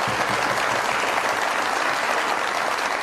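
Audience applause welcoming ministers onto a comedy talk show stage, a dense, steady wash of many hands clapping that holds loud and even throughout without any voices.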